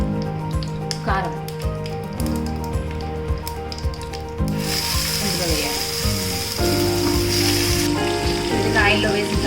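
Ground chili powder sizzles in hot oil after curry leaves and tempering spices have fried, while making Telugu karam; a steady close hiss swells and grows louder partway through, over a faint background tone.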